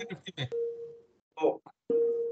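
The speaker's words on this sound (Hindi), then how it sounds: "शायद बैकएंड से मोबाइल की आवाज आ रही है" During an online meeting, a steady electronic phone tone sounds in the background, starting and stopping in two sustained stretches between bursts of talk.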